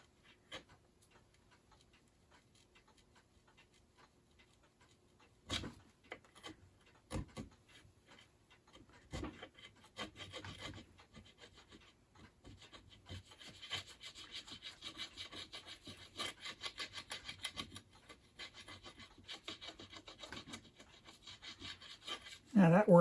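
Tape and adhesive being scraped off a 1964 White Singer Featherweight sewing machine, starting as quiet scattered scratches with a few sharper knocks and building into steady, close, rasping scraping strokes.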